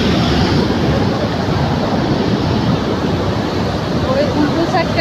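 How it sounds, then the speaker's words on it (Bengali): Water rushes hard and fast through a channel, a loud, steady broadband roar like surf or a weir that fills the whole clip without letting up. "স্পিডে জলটা আসে আর ওখানে গিয়ে কেমন হয়ে যাচ্ছে দেখো"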